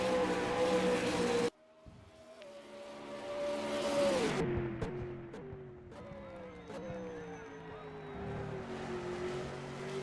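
A V8 Supercar race car in a racing video game drones at steady revs, pitch dropping through gear changes and braking, with a sharp cut and clicks and a constant engine tone under commentary-like talk.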